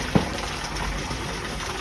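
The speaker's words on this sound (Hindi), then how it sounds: "इस कुंड में पानी लगातार गिरता रहता है।" Water falling continuously into a stone pool at Hanuman Dhara, Chitrakoot, a steady, fairly soft rushing splash with one brief louder knock near the start.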